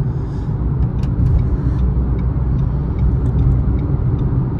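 Steady loud engine and road rumble inside a car at the end of its life cruising on a motorway, a continuous low drone with faint ticks and rattles, no talking.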